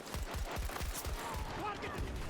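Rapid bursts of gunfire from Battlefield 2042, a close, dense string of shots fired in quick succession, with players talking over the action.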